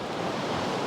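Surf breaking on a UK beach at sunset during a fishing outing, a steady broadband wash of waves with some wind rush across the microphone, continuous and fairly loud, no voices.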